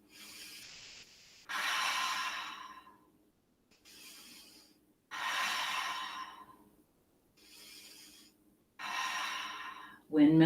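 Slow, audible breaths during a yoga practice, long airy inhales and exhales alternating in an even rhythm with short silent pauses, close to the microphone and free of talk.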